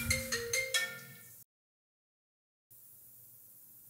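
A phone ringtone plays a few bright, quick melodic notes before cutting off into silence, then a faint low hum returns, with no talking.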